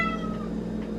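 A domestic cat meows close by in one long, drawn-out cry lasting about a second, clear and fairly loud with no other sounds.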